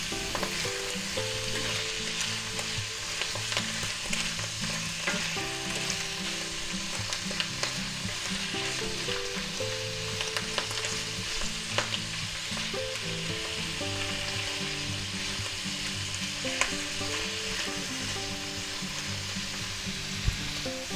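Garlic butter mushrooms sauté in a pan, a steady, close, even sizzle lasting throughout, with faint clinks of stirring and no talk.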